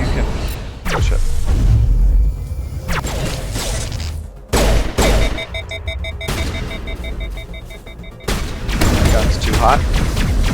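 Heavy gunfire in the video game Mass Effect, with loud sustained bursts and booms, a short break near the middle before the shooting resumes, and voices talking over parts of the fighting.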